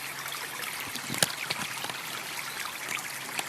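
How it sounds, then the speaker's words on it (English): A stream flows steadily outdoors with a continuous babbling trickle and occasional splashes, close and even throughout with no talk. "I like the sound of this water"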